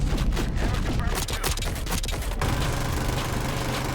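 Gunship cannon fire in Black Ops 6, a rapid burst of loud heavy shots over an engine rumble, then a steady mechanical drone, no talking.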